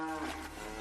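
A single cow moos once, close and fairly loud, in a Tamil comedy scene; the low drawn-out call fills the short moment with no talk over it.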